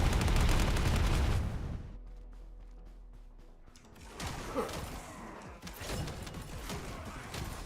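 Suppressing gunfire in The First Descendant: a loud, dense volley of shots cuts off abruptly, then sporadic impacts and whooshing game effects rise again after a brief lull, with no speech.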